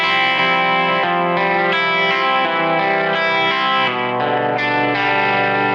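Electric guitar played through a Keeley 4-knob compressor pedal, a steady run of evenly loud, sustained chords and notes with smooth, fat tone and no talking.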